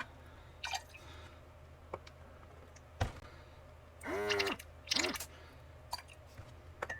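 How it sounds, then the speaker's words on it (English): A No Name Brand cordless airbrush by SprayGunner being back flushed with cleaner: soft clicks and drips, then two short bursts of bubbling, gurgling air through liquid, up close and otherwise quiet. "I'll back flush everything"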